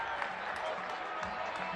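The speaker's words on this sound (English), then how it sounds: "the Zimbabwean crowd has released a roar at Harare Sports Club" Crowd at Harare Sports Club roaring and cheering after a wicket falls in a T20 cricket match, a steady, dense wash of distant voices and applause.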